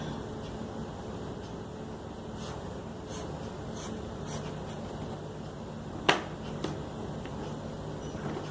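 A pen taps dots onto paper, a handful of faint, sharp ticks spaced irregularly over a quiet room hum, one louder tap standing out near the end.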